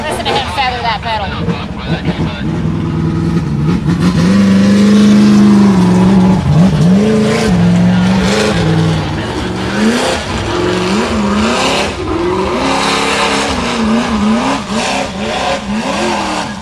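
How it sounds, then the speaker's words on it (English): A UTV-class race vehicle's engine revs continuously as the driver feathers the throttle, its pitch rising and dipping in waves, loud and close, with voices calling out over it. "Listen to him feather that pedal."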